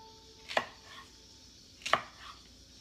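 Two sharp knife strokes slicing through food on a cutting board, about a second apart, each a brief crisp chop with a faint ringing, against quiet room background.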